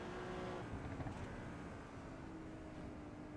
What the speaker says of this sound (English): Here the cars spitting and sputtering and all.